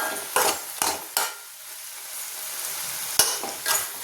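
Sliced potatoes for a Kerala-style mezhukkupuratti stir-fry are tossed in a pan on a low flame, giving a few loud scraping stirs and a clink over a soft background sizzle, with no voices.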